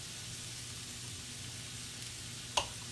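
Butter sizzles steadily in a frying pan next to hash browns, a soft, even hiss with a faint crackle. A single sharp tap sounds near the end.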